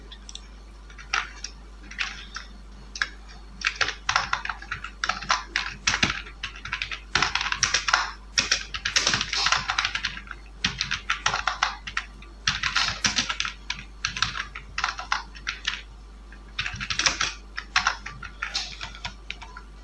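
Rapid bursts of typing on a computer keyboard while entering text in Adobe Illustrator, clicking keys in quick uneven runs with short pauses, close and fairly loud against a steady low hum.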